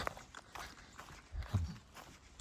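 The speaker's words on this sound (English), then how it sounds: "I like to hear the sound of my footsteps." Footsteps of a hiker on the Appalachian Trail, a soft, uneven series of crunching steps at close range, fairly quiet, with one heavier footfall standing out partway through.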